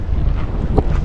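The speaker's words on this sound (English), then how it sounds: "So definitely probably hear the wind better than me describing it" Wind buffeting the microphone on the Chesapeake shore at Tilghman Island, loud and gusty with a short rumbling burst near the end.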